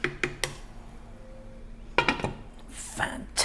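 A metal lid clinks onto a pot of slow-cooked beef vegetable stew, with a few sharp knocks and clatters near the start and more around the middle, close by in a quiet kitchen.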